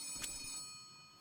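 A telephone ringing in the video game Letter Lost, a brief bright electronic ring burst with a faint steady tone lingering behind it, quiet and without talk.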